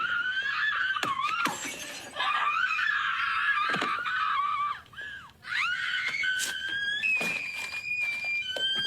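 A woman screams in a movie soundtrack: shrill, wavering cries that rise and fall almost without pause for about nine seconds, broken by sharp, cracking bursts and one brief dip in the middle.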